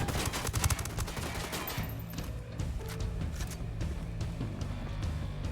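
Rebel gunfire rattles through a Ghost Recon Wildlands firefight, with dense bursts of automatic fire and rapid shots at moderate distance, layered over ongoing game ambience.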